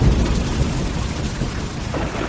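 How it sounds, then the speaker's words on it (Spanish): Thunderstorm with steady heavy rain and a deep, continuous rumble of thunder, loud and close throughout with no voices, used as a sound effect in an audiobook. "La tormenta eléctrica no había cesado un ápice."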